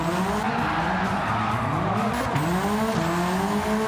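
A Subaru Impreza rally car, tuned for drifting, slides through Gran Turismo 7 with its engine revving steadily and its tyres squealing and skidding without a break, loud and close, with pitch sweeps as it changes gear.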